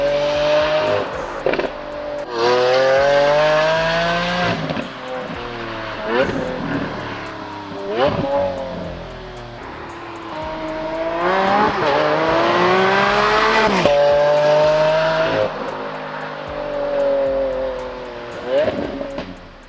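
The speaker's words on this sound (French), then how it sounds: "Le son de ce V12 est absolument génial." Lamborghini Aventador S V12 engine revving hard with rising and falling harmonic wails, several loud blips and sustained high-rev pulls close up, with brief pops between revs.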